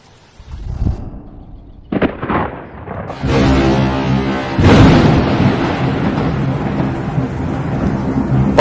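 Thunder rumbles through a stormy skit about a typhoon approaching a village, with a loud crack near the middle and sustained rolling roar that holds steady to the end, plus scattered sharp onsets early on.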